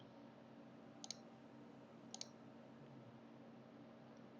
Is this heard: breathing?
no